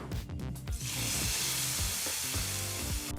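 A loud burst of sizzling as hot oil tempering is poured onto cabbage kootu, settling into a continuous crackling hiss that fills the rest of the clip.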